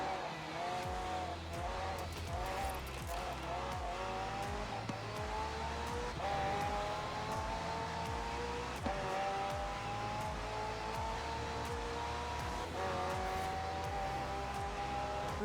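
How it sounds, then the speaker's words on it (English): A McLaren hybrid supercar with a twin-turbo V8 and electric motor in Forza Horizon 4 revs and accelerates steadily, its engine pitch climbing through gear changes with brief tire squeal, loud and continuous. "The car's blistering performance is delivered by a twin-turbo V8, supplemented by a McLaren ECU electric motor and instant power assist system."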